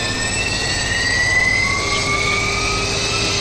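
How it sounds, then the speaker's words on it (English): Engine 2 of a PMDG Jetstream 41 turboprop spooling up in a flight simulator, a loud steady turbine roar with rising whining tones that climb in pitch throughout, no voices. "Starter engage engine 2."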